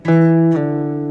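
A single acoustic guitar note is plucked on the fifth string, seventh fret, then a pull-off drops it to a lower ringing note that sustains and slowly fades, played solo.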